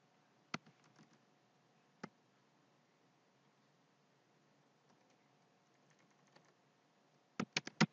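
Keys clacking on a computer keyboard in a quiet room, a few isolated taps early on, then a quick burst of several keystrokes at the end.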